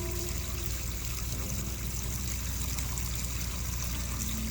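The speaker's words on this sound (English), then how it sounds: "So our wastewater is draining." Wastewater draining from a Nexus 220 pond filter while an air pump runs, a continuous loud rush and trickle of water with bubbling underneath, steady throughout and with no talking.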